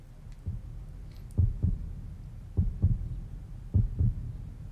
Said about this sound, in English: she could feel a heartbeat, steady and strong